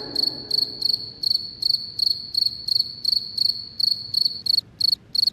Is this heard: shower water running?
no